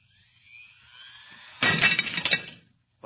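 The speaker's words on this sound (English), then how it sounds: "The glass was shattered" A drinking glass set at the edge of a table bursts apart in one loud, sudden crash with a bright scatter of fragments, heard after a thin rising whine and ending abruptly.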